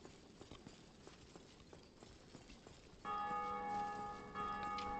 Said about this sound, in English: every time I hear the bell ring, it means a player has done it